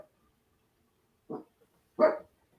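A dog barks twice in the background of an otherwise quiet call, short muffled barks about a second apart, the second louder than the first.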